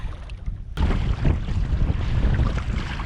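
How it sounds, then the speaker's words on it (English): Strong, steady headwind blowing across a lake from a canoe, with loud blustery wind rumble buffeting the microphone, waves and water noise mixed in, continuous and close after a brief quieter start, no voices. "Straight on headwind."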